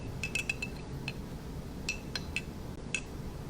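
A spoon stirs tea in a glass, giving a run of bright, close clinks in irregular clusters, a few quick taps, then a pause, then more, over quiet room hiss.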